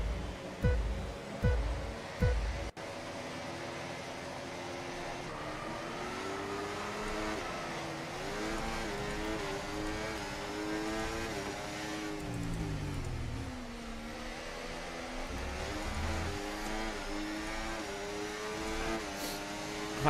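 F1 race cars in a 12-lap sprint race at Austria in the F1 24 video game, engines droning and revving continuously with shifting pitch, several cars close together, no talk.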